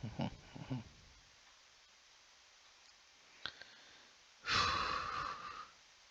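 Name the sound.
breathing noises into the microphone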